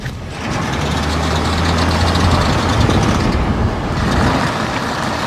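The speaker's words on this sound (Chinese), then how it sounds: "这就是启动机的那个小齿 和大飞轮 产生了一种自摩擦" A Land Rover's starter pinion grinds against the flywheel while the vehicle steers right, a steady loud mechanical rumble and rasp that kicks in after a short pause and carries on without a break.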